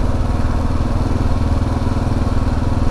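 A motorcycle rides along a winding road on the Grand Canyon North Rim, its engine giving a steady, close, low-pitched rumble with a pulsing beat and no voices over it.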